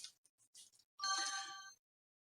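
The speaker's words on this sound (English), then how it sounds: "And I forgot to put my phone on silent." A mobile phone ringtone chimes for about a second indoors, preceded by a few faint clicks and soft sounds, then cuts off into silence.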